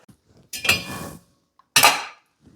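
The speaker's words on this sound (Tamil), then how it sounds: "மூடி வச்சிடலாங்க." A metal pot lid lands on a pot of cooking rice in a home kitchen, two clattering clanks with a ringing metallic tail, close and loud, with quiet pauses between.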